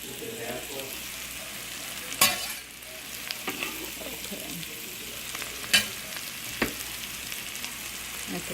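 Garlic sizzles quietly in a pot, with a steady low frying hiss broken by a few sharp scrapes and knocks as it is stirred.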